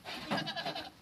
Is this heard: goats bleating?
yes